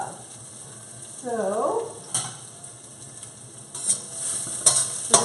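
Diced carrots and frozen peas hit a hot pan for chicken fried rice, a soft steady sizzle with occasional clinks and stirring knocks, fairly quiet, with a brief word of speech.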